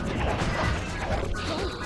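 Glass window pane smashing in the Sly Cooper 2 video game, a short crash with scattered debris, loud and close, mixed over busy game sound and background music, with speech overlapping.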